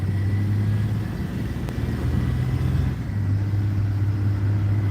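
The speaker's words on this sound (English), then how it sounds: "Yeah, see all the northbound traffic." Northbound road traffic rumbles steadily and close by, a continuous low engine drone whose pitch dips and shifts midway before settling again, with no voices present.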